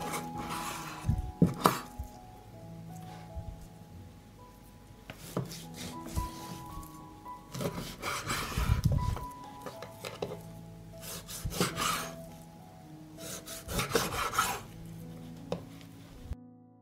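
A knife works through 1.5 kilograms of pork belly on a board, making irregular scraping and chopping strokes with soft knocks and rubbing between cuts, close and moderately loud with no talking.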